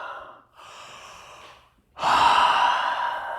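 Slow audible breaths during a yoga session: a soft exhale, a brief pause, a gentler breath, then a stronger, louder breathy exhale pushed out through the mouth, close to the microphone with no speech.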